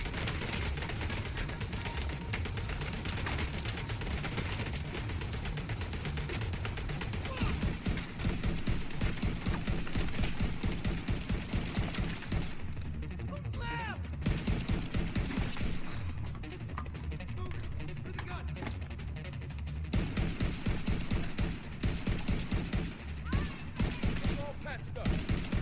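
Sustained enemy gunfire in The Division 2, dense bursts of automatic shots and impacts rattling continuously at close range, with a voice speaking over the shooting.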